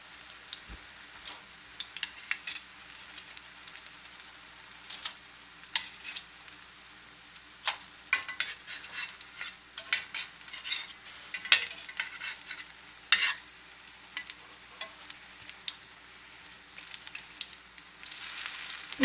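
Diced onion patties with garlic and cayenne pepper frying in grease, a soft continuous sizzle broken by frequent sharp pops and crackles, close and without talk.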